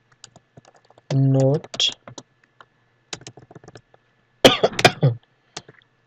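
Someone types on a computer keyboard in Notepad: scattered key clicks and short bursts of tapping, close and fairly quiet, with a brief hum, a throat noise and some soft speech between them.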